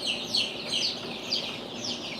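A baby chick peeps in thin, high, repeated chirps, close and steady, over a faint background hiss.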